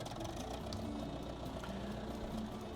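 A tractor engine in Farming Simulator 2013 drones steadily at a low idle, a dense continuous rumble with no speech over it.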